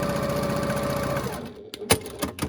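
A sewing machine stitches a quilt block in a fast, steady close whir for just over a second, then stops, followed by a few light clicks and taps.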